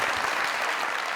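A short burst of applause from a comedy show audience, dense clapping from a crowd at steady strength throughout.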